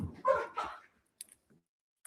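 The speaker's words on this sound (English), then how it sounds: "Sorry, the dogs." Dogs barking indoors, two short barks close together at moderate distance, followed by near silence with a few faint ticks.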